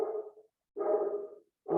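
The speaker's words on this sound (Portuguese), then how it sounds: "meu cachorro está latindo lá embaixo" A dog barks from a room downstairs, three bursts of muffled barking separated by short pauses, heard at moderate level with no talk over it.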